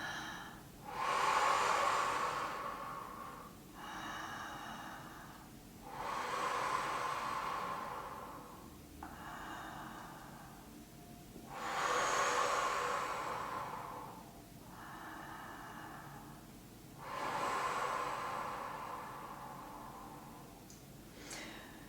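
Deep, slow breaths during a Qi Gong exercise, four long airy inhale-exhale cycles in a steady rhythm, close and fairly soft, with no talking.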